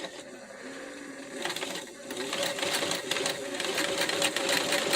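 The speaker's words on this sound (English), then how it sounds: "over to the sewing machine and place it slap down underneath the needle and sew vigorously about the edges using your largest stitch" A sewing machine runs continuously on its largest stitch, gathering the edge of a Regency dress sleeve, with a steady whirring hum that builds slightly in loudness over several seconds.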